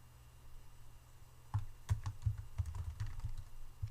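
Keyboard typing of a file name in GIS software: a quick burst of sharp key clicks begins after a quiet pause and continues irregularly to the end, fairly close and clear.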